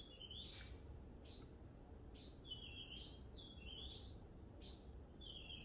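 Repeated bird calls, a series of short high chirps and squeaky whistles in irregular bursts, heard against a steady low room rumble with no voices.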